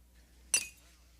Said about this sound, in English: champagne glass broke